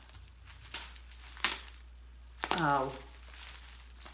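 Packing material crinkles and tears as a plant mail gift package is opened, in scattered rustling bursts with a louder crackle near the middle, and a voice briefly exclaims.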